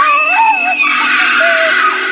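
A woman screams loudly in a Hindi horror story about a scarecrow, a sustained, wavering high-pitched cry that carries on without a break over about two seconds.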